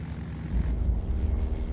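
Propeller plane droning overhead during a winter search in Alaska at 20 below, a steady low engine rumble that swells slightly and holds, fairly loud and continuous with no talk.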